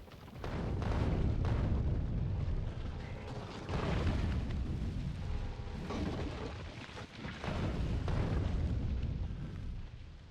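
Continuous heavy explosions in a factory-building video game with nuclear weapons, a dense rolling roar of booms and rumbles that swells and dips without pause, loud and close.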